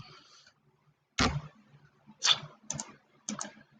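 Typing on a computer keyboard while entering data in Excel, four or five sharp, close key clicks spaced irregularly over quiet.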